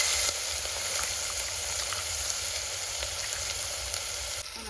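Green chillies and crushed garlic hit a hot tempering of oil with asafoetida and curry leaves, giving a steady, loud, continuous sizzle and crackle close by with no talk.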